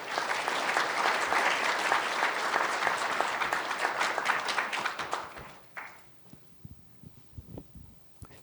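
An audience claps loudly and steadily for several seconds to welcome an expert panel at a legal technology conference, then the applause fades into scattered claps and quiet shuffling.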